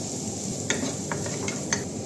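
Onions dropped into melted butter in a pan, giving a soft steady sizzle with a few light stirring scrapes and clicks, close and fairly quiet with no talking.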